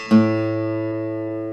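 A single plucked open A string on a guitar rings out, one clear attack followed by a long, steady sustain that slowly fades, close and alone.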